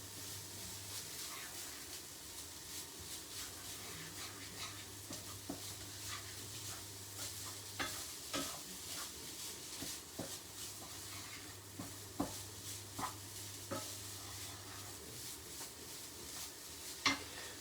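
Chilli con carne cooks in a pan, a steady low sizzle and hiss broken by scattered scrapes and knocks of stirring, quiet and close, with no talking.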